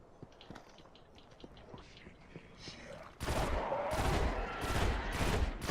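Pulse rifle fire from the video game Destiny starts about halfway through, loud rapid bursts of shots in quick clusters after a quieter stretch of faint in-game sounds, with someone talking.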